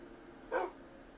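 A single short dog bark from a tamed wolf-dog in the Minecraft game, clear and mid-loud over a quiet background, lasting a fraction of a second.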